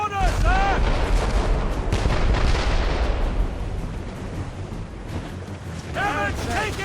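Naval cannons boom in a sea battle in Assassin's Creed Rogue, heavy blasts rolling into a loud rumbling barrage, with shouted voices at the start and end.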